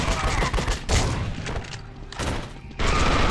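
Enemy gunfire in the horror shooter The Suffering: Ties That Bind, loud dense bursts of shots and thuds in quick succession with brief gaps, heavy and close.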